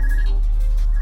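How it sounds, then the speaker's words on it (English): Phone ringing in the video game Trails of Cold Steel IV, a short electronic ringtone chirp that repeats once over a loud, steady low hum. "Convenient phone call is convenient."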